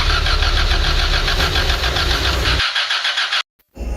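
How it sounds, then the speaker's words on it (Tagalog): A car engine cranks repeatedly with a rhythmic chugging starter whir but fails to catch, the loud cranking stopping abruptly, followed by a short silence and a fresh burst of cranking. "Ayaw po kumandar ng sasakyan ni Don Pips"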